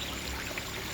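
Water streaming from an L-shaped tube into the center of a tilapia aquaponic tank, a steady, continuous pouring splash close by with no talk.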